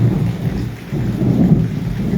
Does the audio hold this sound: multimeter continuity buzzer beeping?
no